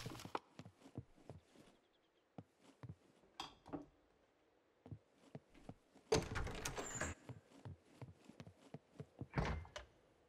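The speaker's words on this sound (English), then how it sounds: "Close the door." A door shuts in the survival game SCUM with a solid thunk, one of a string of clunky knocks and footstep-like thuds that are followed by a louder crunching burst, with no talking.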